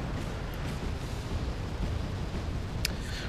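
Grenades fired by a BMP-1D infantry fighting vehicle in Wargame European Escalation land as a dense, rumbling wash of distant explosions and booms, with one sharper crack near the end.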